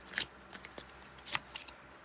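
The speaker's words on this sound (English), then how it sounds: "we've got cards flying out" Tarot cards riffled and shuffled by hand, with soft papery bursts as cards flick and fly out of the deck, several quick brushes spread across a quiet moment.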